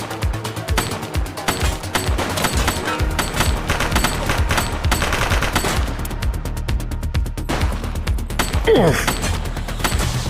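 Rapid bursts of gunfire from the video game The Precinct crackle and rattle almost continuously, dense volleys layered over a loud action mix, with a brief grunt from a voice.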